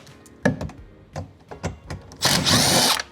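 Power drill backing out bolts from the door of a Tesla Model Y, in bursts: a few short whirring pulses and knocks, then a longer, louder spin near the end, all close by.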